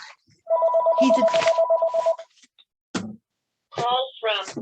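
A telephone rings with a repeated electronic warble for about two seconds, followed by short bursts of a person speaking nearby.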